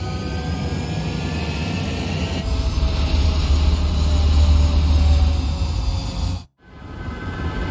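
A jet fighter roars loudly during takeoff in the Ace Combat 7: Skies Unknown video game, with a thick sustained engine rumble that swells as it accelerates and then drops out abruptly before the roar resumes.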